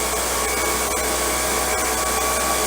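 A Husqvarna 125 BT mini backpack leaf blower runs outdoors with a steady, loud, unbroken whooshing roar close by. No one speaks.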